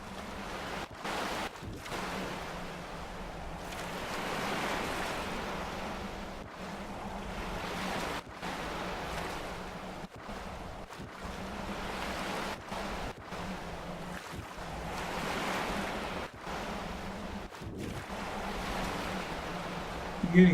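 Water and waves in the Skyrim video game wash in a soft, continuous surf with gentle swells and breezy noise, faint and steady, broken by brief dropouts.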